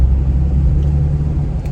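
A Porsche 911 fitted with new engine mounts drives along. A steady, heavy low rumble of engine and road noise fills the cabin without a break, and no one speaks.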